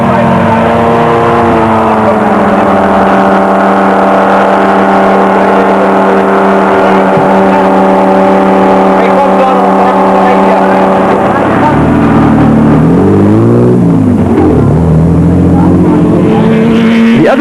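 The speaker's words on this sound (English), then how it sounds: "the roar of thundering engines" Off-road rally cars from the Toyota and Pajero teams roar loudly and steadily nearby, with sustained engine drone and shifting pitch as a vehicle revs and surges toward the end.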